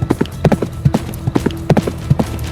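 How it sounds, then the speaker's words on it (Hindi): A ridden horse's hooves clip-clop on a hard road in a steady walking rhythm, about a dozen clear strikes, close and fairly loud with no voices. "एक कद्दावर नेता का बेलगाम बेटा घोड़े पर सवार होकर सैर करने के लिए निकला है"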